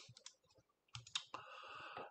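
Fingers tap out a password on the numeric keypad of a computer keyboard, making a quick run of close, crisp key clicks in short bursts with brief pauses between them.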